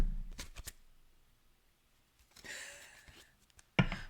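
Tarot cards being handled and shuffled from a deck, a few quick riffles and soft slides at close range with quiet gaps between them, and no talking.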